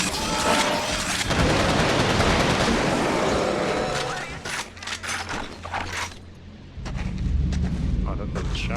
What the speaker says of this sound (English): Oh, that's a shotgun.